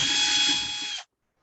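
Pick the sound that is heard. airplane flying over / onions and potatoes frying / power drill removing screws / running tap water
power drill removing screws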